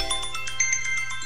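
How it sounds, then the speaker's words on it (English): A mobile phone ringtone plays for an incoming call, a repeating pattern of bright electronic tones pulsing at a steady rhythm, fairly loud and close with a low hum underneath. "I forgot to turn my phone off. I will turn it off in a second here after that phone call goes away"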